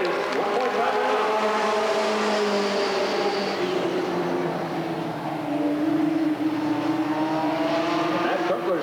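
Race cars on the final lap at Redwood Acres Raceway in 1989, engines droning steadily at a distance with rising and falling pitch as they circle the track, under continuous announcer commentary.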